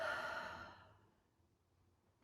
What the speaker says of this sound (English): Breathe in and out.